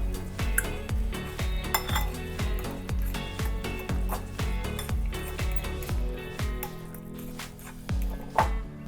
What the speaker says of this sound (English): And then you just take a fork and start mashing it all up until it becomes